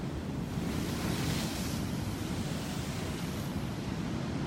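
Pacific Ocean waves as a steady, broad wash of surf with wind noise on the microphone, continuous and fairly loud, with no voices.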